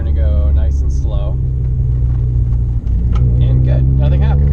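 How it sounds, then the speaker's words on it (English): Continuous low rumble of a 3rd gen Honda Prelude accelerating, with body panels rattling and shaking throughout while someone talks over the cabin noise. "you hear all the like panels when I accelerate, all the panels in the car shaking"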